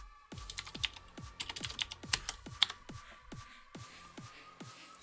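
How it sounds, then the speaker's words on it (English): Computer keyboard typed while coding in Go, a series of distinct close key clacks in an irregular rhythm with brief pauses, loud and alone against a quiet background. "I know you can't see what I'm typing here now"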